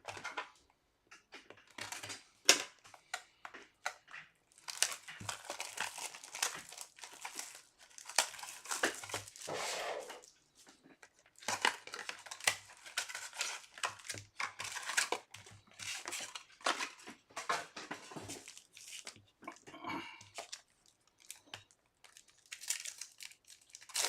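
Foil packs of 2024 Marvel Masterpieces trading cards are torn open and handled at close range, with sustained crinkling and crackling in busy bursts and brief pauses, and no talking.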